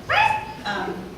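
A human voice imitates a happy dog bark with two bright, yelping 'arf' sounds in quick succession, close and clear.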